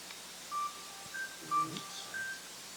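A phone in a school board meeting room gives a series of short, chirpy electronic beeps at varying pitches, like R2-D2, spaced over a few seconds against a quiet room with faint murmurs.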